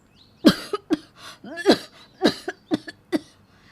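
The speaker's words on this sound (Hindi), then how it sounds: "ज़ोरदार खांसी हो जाती है" A bout of loud, harsh coughing, about eight forceful coughs in quick irregular bursts, close by with no talking.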